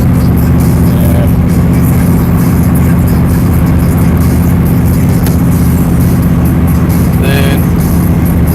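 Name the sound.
inline 4-cylinder diesel vehicle engine while driving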